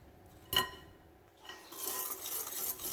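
Dry ingredients including salt being stirred into shortbread cookie dough in a bowl, with a sharp utensil clank against the bowl early on, then a steady scraping and rubbing from the mixing, close and moderately quiet.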